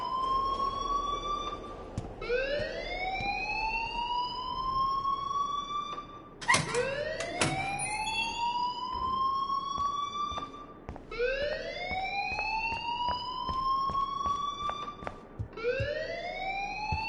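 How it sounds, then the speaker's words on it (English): A wailing alarm siren in the game Life is Strange rises and falls in repeated sweeping cycles, loud and continuous throughout, with a harsh clang partway through and no voices. "please turn off that alarm since that's your job"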